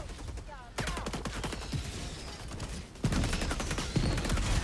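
Helldivers 2 gunfire, a dense, close rattle of rapid shots that grows louder partway through, with heavy reports punching through and short voice fragments underneath.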